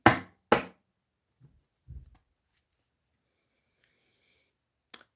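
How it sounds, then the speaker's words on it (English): A neighbor's front door slams shut with two sharp loud thuds, followed by a few softer knocks and a faint click, with silence between them. "she just shut the front door pretty loudly, like she always does"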